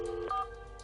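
Telephone dialing tones for a phone call, a couple of quick beeping tone bursts in the first half second, then quiet hum.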